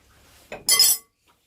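A wet metal spoon scrapes and clinks against a bowl while scooping soft bread dough, one short loud scrape after a softer knock, then quiet.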